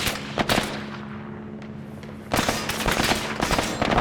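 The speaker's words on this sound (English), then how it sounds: "I'm being shot at by my own guy" Gunfire in ARMA 3: sharp cracks of rifle shots, a quick burst at the start, a lull with a low hum, then a denser run of rapid shots and echoing reports.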